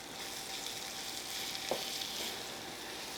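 Potato fry being stirred in a pan, a steady frying hiss throughout with one soft utensil scrape midway; no talk.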